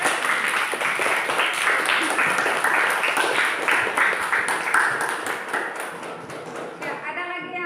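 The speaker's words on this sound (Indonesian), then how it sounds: "Berikan aplaus untuk teman yang mendengar." Classroom applause from a group of high school students, dense steady clapping at full strength that thins and fades toward the end, with a few voices mixed in.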